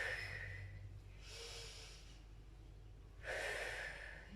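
Heavy breathing from an older adult exerciser during dumbbell rows in a strength workout, with two loud breathy bursts, one early and one near the end, over a low background hum.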